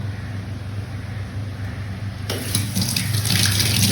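Tap water runs steadily into a sink while potatoes are washed, a soft constant stream that swells into a louder, splashier gush partway through, with no talk.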